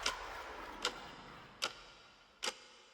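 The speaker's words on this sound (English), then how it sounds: "Clock is ticking." A sampled clock sound effect in a future bass production ticks four times at an even, slow pace, each crisp and sharp over a soft, faint background with nothing else.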